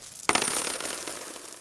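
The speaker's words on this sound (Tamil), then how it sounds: "அதில் ஒரு நாணயம் போட்டால் 100 நாணயங்கள் கிடைத்தன." Coins drop onto a hard surface with one sharp, close clink, followed by a bright shimmering ring that fades slowly over the next second.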